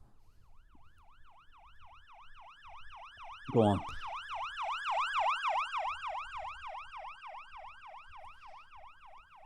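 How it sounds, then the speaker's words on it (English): An ambulance siren wails in a steady rising-and-falling pattern and grows louder as it goes on, with a short whoop near the start and a brief voice underneath. "There's the ambulance, everybody."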